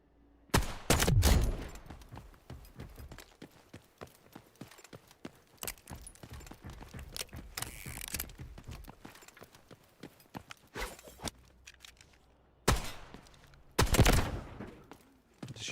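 Gunfire in the Delta Force shooter game, with a few sharp loud shots and bursts separated by quieter stretches of soft footsteps and movement, some shots close and heavy.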